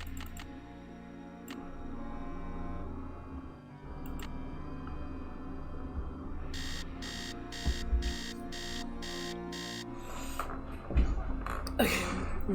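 Alarm clock going off in the Nancy Drew mansion game, a series of rapid evenly spaced electronic beeps in bursts partway through, over a steady tonal game music bed with some ticking.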